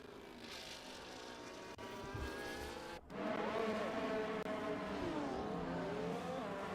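A Formula 1 car engine in the racing game F1 24 whines at high pitch, climbing through gears with a brief drop near the middle before surging louder again, driving on without its end plate.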